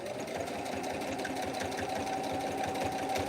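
A sewing machine stitches through fabric while sewing a ghost pillow, giving a steady, rapid mechanical whirring and clicking that runs continuously up close.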